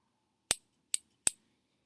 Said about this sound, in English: I also got this pair of scissors